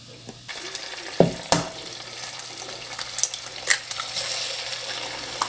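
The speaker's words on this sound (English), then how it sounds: "I just put some Old Bay in it and cooking it in butter" Cooked shrimp seasoned with Old Bay fries in butter with a soft steady sizzle, broken by a few sharp clatters and stirring clicks of utensils against the pan.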